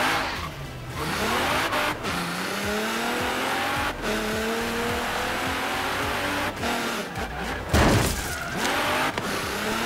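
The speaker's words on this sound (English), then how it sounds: "Get out of the way, I'm drifting." A car drifting in Forza Horizon 3, its engine revving up and down through gear changes while the tires squeal and skid, loud and continuous with brief dips between shifts.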